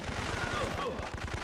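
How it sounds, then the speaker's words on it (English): Rapid gunfire in the Syphon Filter video game, a steady run of fast, evenly spaced shots at moderate distance, rattling continuously through the short clip. "Guess I'm just shooting people just so I can get away scot-free."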